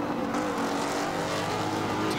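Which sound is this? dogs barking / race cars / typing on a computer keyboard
race cars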